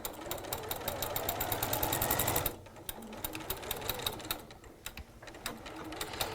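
A sewing machine runs a straight stitch, with fast, even needle clatter that stops about halfway through and then resumes in shorter, slower bursts, close and clear.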